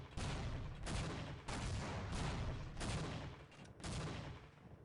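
Team Fortress 2 Demoman firing pipe grenades in rapid bursts, a series of five loud, dense blasts with short gaps between them, game sound heard alone.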